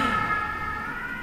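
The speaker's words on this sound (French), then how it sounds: "je coupe parce que les pompiers vont passer" A fire engine siren sounding loud and close as it goes by, a sustained wailing tone over road traffic noise, with no talking.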